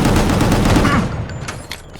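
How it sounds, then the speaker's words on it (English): Rapid gunfire from a dodge shot in the action game GunGrave G.O.R.E. bursts loud and dense for about a second, then trails off into scattered fainter impacts. "Use dodge shot to evade enemy attacks and to shoot while dodging."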